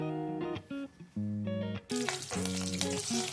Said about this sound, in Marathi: त्यात हिंग आणि कढीपत्ता घालून घेतला आहे